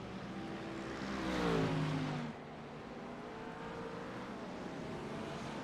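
A GT3 race car at Barcelona loses its rear going into a corner, its engine note swelling and sliding in pitch for a couple of seconds before settling back into the steady drone of surrounding cars.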